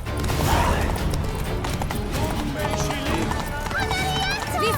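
Horse galloping in The Witcher 3: Blood and Wine, with rapid rhythmic hoofbeats driving steadily throughout, loud and close, under overlapping voices and background music.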